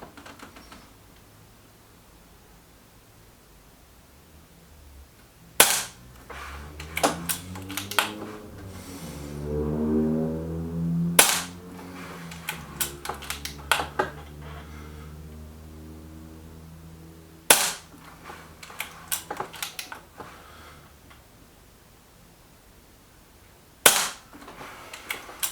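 Air Arms S510 air rifle shooting JSB Match Diablo pellets gives four sharp, loud cracks spaced several seconds apart. Each shot is followed by fainter mechanical clicks and handling noises, and a low droning tone swells briefly between shots.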